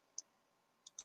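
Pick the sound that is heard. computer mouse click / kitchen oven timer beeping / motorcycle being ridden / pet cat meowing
computer mouse click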